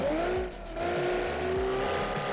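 A car engine screams at near top speed in BeamNG, a homemade roofless speedster with five gears. The pitch climbs steadily and the engine runs loud, close and continuous with no talk.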